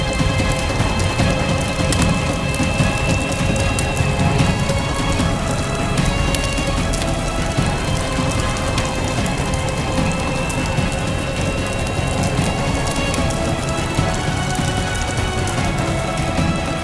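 Heavy, constant rainfall hissing and pattering on surfaces as a storm approaches, a steady close downpour with a faint low rumble of thunder underneath.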